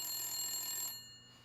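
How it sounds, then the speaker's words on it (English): A mobile phone rings with a bright electronic ringtone of steady sustained tones, loud and alone, cutting off partway through and leaving quieter background noise. "or whatever your phone sounds like when it's ringing"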